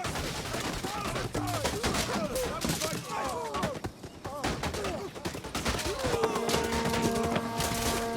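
Missile volleys strike a Roman testudo formation during a Rome 2 battle, a dense patter of hits rattling against shields amid constant battle din, with shouting voices layered over it throughout.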